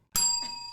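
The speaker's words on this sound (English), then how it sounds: "Hit that bell." A small bell struck once during a podcast recording, a sharp bright ding that starts abruptly after a moment of quiet and then rings on with a sustained shimmering tone.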